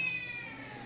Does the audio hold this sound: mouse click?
no